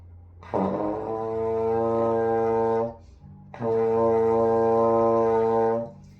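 A trombone plays a low B flat twice, each held about two and a half seconds with a rich, buzzy tone and a short gap between.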